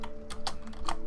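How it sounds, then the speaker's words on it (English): Typing on a computer keyboard produces a burst of quick, uneven key clicks, close and fairly quiet, with no voices over it. "I'm gonna have to use the mouse keyboard for this"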